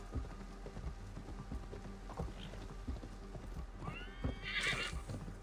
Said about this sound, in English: Nice horsey ride.